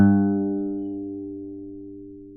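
A single guitar note picked on the sixth string at the third fret rings out alone, starting loud and fading slowly as it sustains.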